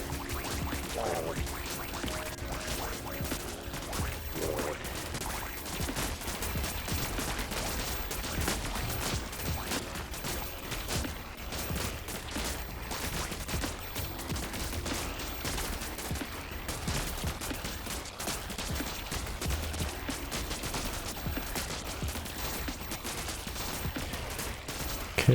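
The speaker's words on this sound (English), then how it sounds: "That is a deadly amount of laser fire." Dense, continuous volleys of laser fire from a swarm of units in the strategy game Buggos, a crackling barrage without pause that is loud and constant throughout.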